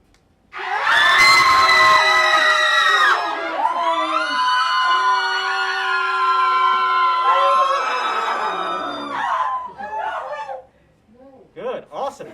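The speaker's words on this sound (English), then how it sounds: "I want you all to scream like you're being stomped by monsters or you're running from monsters" A group of volunteers screams loudly and together as if running from monsters, a sustained shrill mass of voices that fades out, then trails into scattered yelps and chatter.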